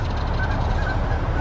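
Honking fowl calls, goose-like and harsh, sound loud and close over a dense, noisy background, continuous for the short stretch with no talk.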